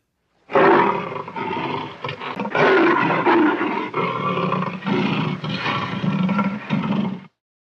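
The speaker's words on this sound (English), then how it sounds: "it is the sound of a mighty lion roaring" A mighty lion roars in one long, loud, close sequence of rough growling bursts lasting several seconds, heard alone with no talking.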